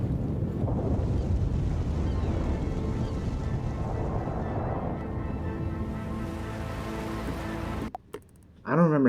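Creature plunging into water in Battlefield 4, a broad rushing, splashing wash of water noise that fills most of the span before cutting away near the end, with faint voices under it.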